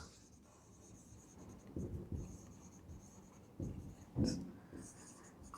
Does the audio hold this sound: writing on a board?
yes